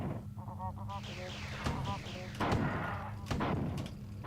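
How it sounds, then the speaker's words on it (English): Grenade explosions in the classic first-person shooter Marathon 2, three or four dull bursts spaced about a second apart, mixed with honking, warbling creature-like tones and a steady low game hum, fairly faint overall. "I should not be using my grenades like this"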